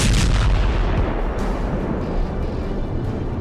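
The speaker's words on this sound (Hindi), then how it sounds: "यूक्रेन ने रूस के ब्लैक सी हेडक्वार्टर पर मिसाइल से हमला कर दिया है।" Missile strike explosions hitting the Russian Black Sea Fleet headquarters: a continuous, loud, rumbling roar of blasts with booming low-end bursts, heard alone without talk.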